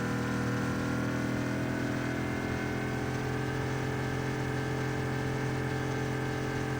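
A car engine straining in Cyberpunk 2077, a continuous loud droning roar at a steady high pitch that holds throughout without a break.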